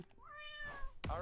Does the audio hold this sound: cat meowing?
yes